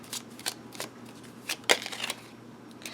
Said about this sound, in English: So then we're going to draw 2 more cards, or 3, for the best path forward